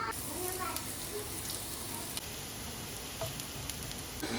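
Coconut oil sizzles in a pan while a Kerala-style fish curry is being made, a steady, moderate frying hiss running throughout with a voice faintly present in the background.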